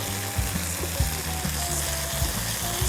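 Steaks sizzling in a hot pan with a knob of butter, a steady dense hiss and crackle from start to finish with low rhythmic thumps from the pan, close and loud.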